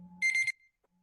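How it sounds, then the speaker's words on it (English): A kitchen-style timer alarm gives one short burst of rapid, shrill electronic beeping, loud and close, over a faint low hum, then cuts off into near silence. "Yes, that was my timer, trying to keep myself on time."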